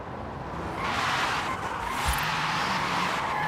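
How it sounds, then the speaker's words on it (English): A BMW iX electric SUV drifting in Forza Horizon 5, its tires hissing and squealing in a steady, loud broadband smear that swells after the first second and holds, with a brief sharper screech midway and no engine roar. "They say we could drift this thing"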